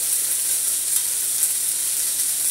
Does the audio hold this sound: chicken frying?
yes